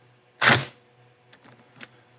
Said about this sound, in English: So I'm going to get the little impact gun.